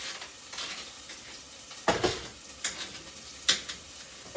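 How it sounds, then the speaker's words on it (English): Onions browning in a pan, a soft steady sizzle close by, broken by several sharp scraping stirs of a utensil against the pan. "while she's browning the onions"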